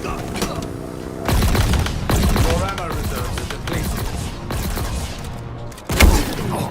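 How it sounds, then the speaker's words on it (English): Rapid bursts of video game gunfire empty a weapon in quick succession, sharp repeated shots mixed with game effects and someone talking over them. "I just emptied the entire gun"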